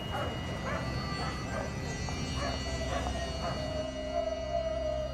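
Feral dogs in India's Thar Desert bark in a loose series of yips and barks, moderately distant, over a constant broadband wash of background noise.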